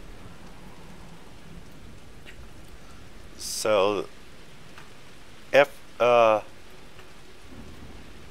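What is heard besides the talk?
rain and thunderstorm in a video game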